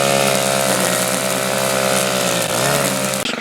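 A STIHL FS130R string trimmer runs loud and close in weeds, its high-pitched engine whine steady throughout with a brief dip as the line cuts into growth, and no talking.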